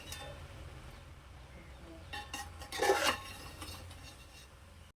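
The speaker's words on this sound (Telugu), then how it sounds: "ఇప్పుడైతే రైస్లో ముక్కలను అయితే మిక్స్ చేసుకోవాలి" Spoon scraping and clinking against a pot while beef pieces are stirred into rice for Andhra-style beef biryani, soft metallic scrapes with one brief louder rasping stir in the middle.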